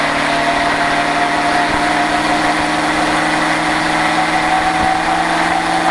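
A stock car engine at the Richard Petty Driving Experience hums steadily as it begins to speed up on the track, a loud, constant droning roar heard close from inside the car, with no talking.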